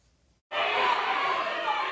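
A rowdy protest crowd in a state capitol chamber gallery, backing a transgender lawmaker, erupts suddenly into loud, sustained shouting and chatter after a brief near-silence.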